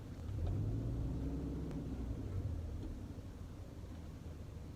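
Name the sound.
1999 Subaru Forester driving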